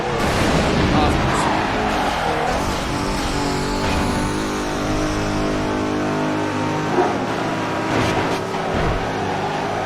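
In the racing video game Midnight Club 3, car engines roar and rev loudly and continuously at high speed, with someone talking over the din.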